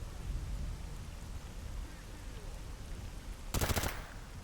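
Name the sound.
gunfire in the video game Stalker GAMMA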